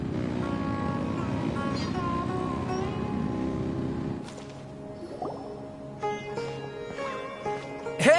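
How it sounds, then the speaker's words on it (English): Engines rev in the Genshin Impact video game, a loud steady motor drone for about four seconds that cuts off, followed by quieter game sounds and chimes. "Rev the engines!"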